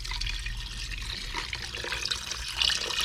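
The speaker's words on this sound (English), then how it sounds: "I pour all the water in" About 2 liters of water poured into a pot of Thai hung lay curry, a steady, close rush of liquid with some splashing, no talking.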